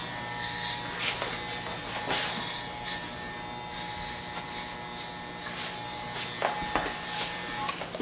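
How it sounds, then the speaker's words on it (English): Electric clippers buzz steadily throughout while skinning a head bald for a flip-up fade military cut, with a constant close drone and small shifts in pitch as the blade moves over the scalp. "Go ahead and shave this off."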